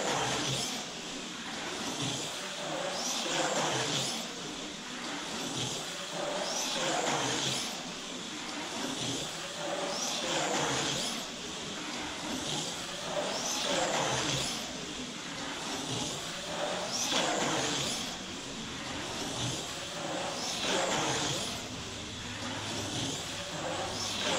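A Viper race car laps a track, its engine drone rising and falling in repeated waves as it passes, steady and moderately loud throughout with no speech.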